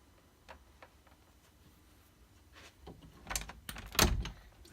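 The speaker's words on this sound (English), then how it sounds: "I'm going to shut the door" A room door being shut indoors, quiet footsteps and rustling leading to two sharp, close thuds of the door closing and latching near the end.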